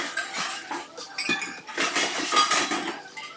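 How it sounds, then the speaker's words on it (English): Dishes and cutlery clink and clatter steadily while a dishwasher is being loaded, with dense, bright overlapping knocks of plates and silverware close by, no talking. "Alright, loading the dishwasher up with my dishes."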